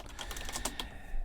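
Rapid keyboard typing during Minecraft play, quick close clicks in an uneven run over low background noise.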